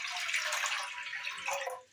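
Water poured into a kadhai (wok), roughly two and a half glasses, as the first step of a raw mango sharbat; a bright, splashy stream close by that surges, eases, then picks up again before tapering off.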